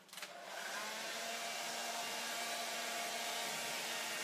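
A hair dryer blows steadily and loudly at close range, drying red and tan paint on a wooden door hanger, with a sustained whooshing roar that starts abruptly and holds without pause.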